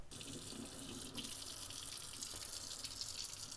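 Tap water runs steadily over venison in a sink, a continuous close splashing hiss with a brief shift in flow partway through, no voices.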